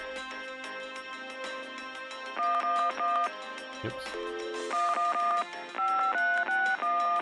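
A sequence of telephone keypad tones from the DOS Sierra game Gabriel Knight, short paired beeps in uneven bursts over soft background music, with a brief spoken word in the middle.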